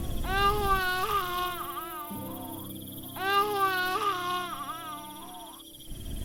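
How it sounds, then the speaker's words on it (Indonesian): An infant wails in two long, rising-and-falling crying bouts separated by a brief pause, close and fairly loud, with a low steady hum underneath. "Dewi mendengar suara bayi menangis."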